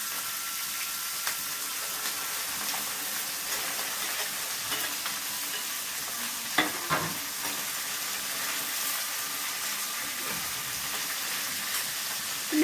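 Okra pieces frying in a pan, a dense steady sizzle with occasional scrapes and clinks of stirring, close and continuous.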